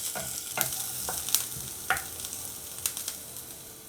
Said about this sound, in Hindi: तो इस लहसुन को मैं अब थोड़ा सा क्रिस्प करने वाली हूँ।